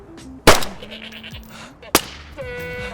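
Goats bleating in a snowy clearing while hunting in DayZ Frostline, with two sharp gunshot cracks cutting through the wavering bleats, fairly close and loud.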